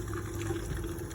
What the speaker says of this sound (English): I've just showed you how to use the sink, but essentially fresh water pump on there